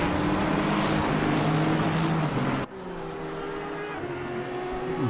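Race cars in a PC racing game at Zandvoort, including a number 17 McLaren and a Ferrari, drone loudly and steadily, with several engine tones sliding in pitch and a sudden drop in level midway as the view cuts.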